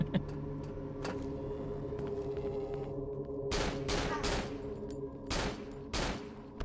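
Gunfire in the horror game Cry of Fear: a few isolated shots, then a rapid cluster of sharp, loud cracks in the second half, set against a low ambient hum.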